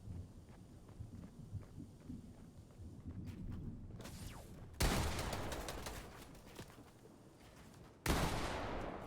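Bursts of gunfire rattle in a Fortnite trios playoff match, starting with scattered distant shots and then breaking into two loud, dense volleys of rapid fire.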